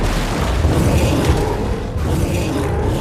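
A shot canister explodes in the video game Mortal Shell, a loud, dense rumbling boom that fills the short stretch with sustained low-end blast noise and no talking over it.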